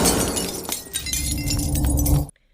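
Framed photo falling and its glass shattering, a loud burst of breaking glass with scattered tinkling fragments for about two seconds before cutting to silence.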